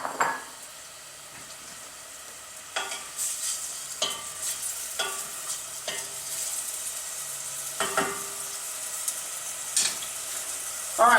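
Gardein beefless tips brown in olive oil in a pan, a steady sizzle running throughout, broken by repeated scrapes and clinks of a utensil stirring against the pan.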